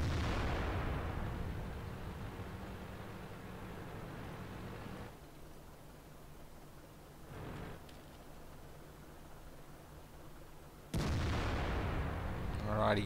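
Tank cannon shots in a World of Tanks match at a Go4WoT Asia finals: a loud broadband blast opens, a fainter one follows mid-clip, and another sharp report lands near the end over steady battle rumble.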